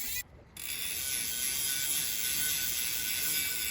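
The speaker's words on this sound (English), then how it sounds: "all I'm doing is just wiping off all that excess grime" A rag wipes excess grime off a bike chain, making a steady close ratcheting, whirring mechanical sound as the chain runs through, broken by a brief dropout near the start.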